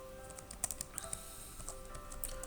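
Quiet, scattered keystrokes on a computer keyboard while entering an expense, a few light clicks at irregular intervals over a faint steady hum.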